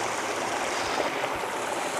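A mountain stream in Tajikistan rushes near a waterfall, making a steady, loud, broadband wash of flowing water with no pauses throughout.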